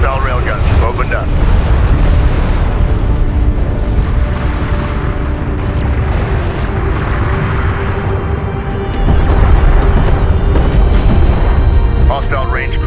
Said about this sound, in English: Hostile railguns opened up.